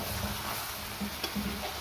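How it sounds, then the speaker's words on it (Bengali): Braised meat sizzles in a pan as a little water goes in, a steady close frying hiss with faint stirring scrapes and no voices. "এই যে মাংসটা কষানো হয়ে গেছে, এখন একটু জল দিয়ে দেবো"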